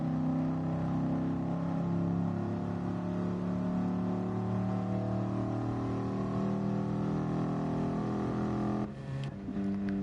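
Racing car engine from the NES Le Mans video game, a steady chiptune-like drone holding at high speed before easing off as the car coasts, with a brief disruption near the end.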